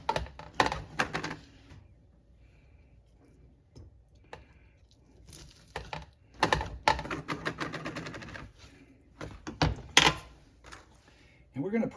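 A knife chopping food on a cutting board in bursts of quick, close, crisp taps separated by pauses, with a voice talking at times between the cuts.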